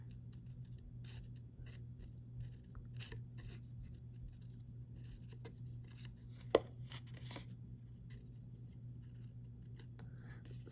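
Faint, sporadic snips of scissors cutting tabs into a paper strip for a marshmallow mug treat holder, soft short crisp cuts with one sharper click over a low steady hum.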